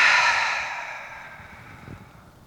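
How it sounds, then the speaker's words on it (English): One slow breath, in and out, close and soft during a calming yoga session: an airy exhale that fades gradually, ending with a faint low puff near the finish. "One more breath in and out at your own pace."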